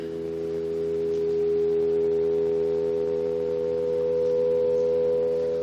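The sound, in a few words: synthesized harmonic series tone, flat B flat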